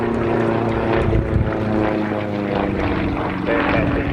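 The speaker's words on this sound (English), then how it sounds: "The Russians used to compete with this aircraft all throughout the 70s." A Russian aerobatic propeller plane performs at an airshow in Tyabb, its engine drone steady and loud with a buzzing, harmonic prop tone that shifts slightly as it passes.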